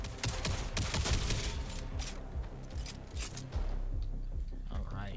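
Video game gunfire rattles in rapid bursts of shots, loud and close, with voices talking over parts of the fighting.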